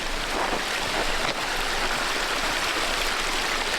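Creek water in a burned-over California camp area rushes and burbles in a steady, close, fairly loud wash that never lets up, with no voices.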